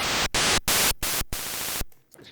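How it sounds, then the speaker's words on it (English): An NES-style chiptune noise channel plays a full-volume instrument: loud, harsh bursts of white static in short, evenly separated notes, then one longer sustained burst that cuts off abruptly, with no talking. "when I play the same instrument here in the noise channel"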